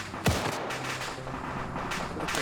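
A single sharp shotgun blast cracks in a Rising Storm 2: Vietnam battle amid dense ongoing combat noise, followed by rumbling distant gunfire.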